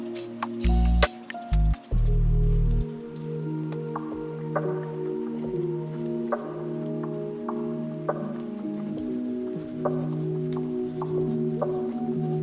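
A pen scribbles steadily across a sturdy index card for mixed media scribble journaling and mark making, its continuous scratching running under soft tonal background music.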